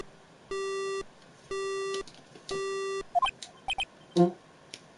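Three long, evenly spaced electronic tones from a dead phone line after a cell phone breaks in the Phoenix Wright video game, followed by a few short chirping blips, clear and alone.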